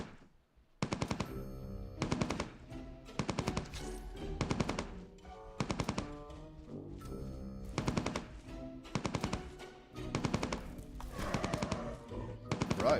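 Rapid automatic gunfire in the online game Entropia Universe comes in repeated loud bursts of several seconds, separated by brief gaps, with no talking.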